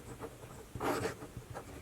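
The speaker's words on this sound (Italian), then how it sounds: "sentite proprio quasi un attrito, proprio come se il pennino grattasse" An Aurora Optima B fountain pen nib scratches across paper in close, dry strokes, with one longer, louder scrape in the middle and a few shorter ones around it.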